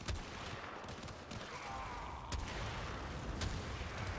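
Gunfire in a shooter video game, a dense low rumble of rapid shots and booms with a few sharper cracks standing out, fairly faint and continuous, with no talking.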